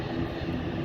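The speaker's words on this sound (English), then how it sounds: "So there's the British Airways getting ready to make its way onto the runway." A British Airways airliner taxis toward the runway at London City Airport, its engines giving a steady, even rumble with no talk over it.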